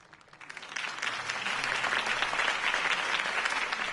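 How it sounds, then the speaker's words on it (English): A crowd applauds a political campaign speech in the Batman Telltale game, the clapping building quickly from scattered claps into steady, full applause that holds to the end. "could have heard that applause"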